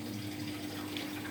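Water runs steadily into a Samsung 7 kg washing machine, a constant even hiss with a low hum beneath it, close and unbroken with no voices.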